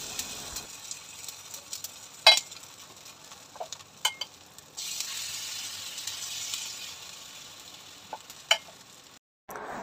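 Thick rava uthappam batter sizzling on a hot pan, a steady soft frying hiss with a few light clicks and scrapes, close and quiet with no talking.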